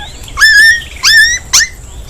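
A cartoon dog gives three short, bright whimpering yelps in quick succession, each rising then holding briefly, close and clear with no talk.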